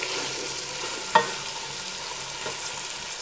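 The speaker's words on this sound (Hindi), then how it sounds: "थोड़ी देर हम इनको ऐसे ही फ्राई करेंगे" Potatoes and peas frying in a pan, a steady soft sizzle with faint stirring and one sharp utensil clink partway through.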